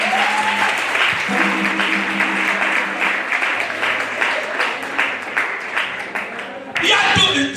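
Congregation at a French-language church service breaks into sustained applause and cheering that fills the room alongside a preacher's voice, the clapping steady throughout and swelling again near the end.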